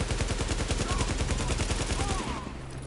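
An AK rifle fires in sustained fully automatic bursts in a shooter video game, loud and close, a dense rapid stream of shots for over two seconds that then cuts off into a lingering low rumble.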